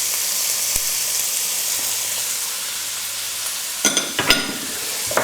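Sun-dried tomatoes hit a hot pan in a one-pot Basque chicken dish, raising a steady close sizzling hiss, with a few sharp clatters of stirring near the end.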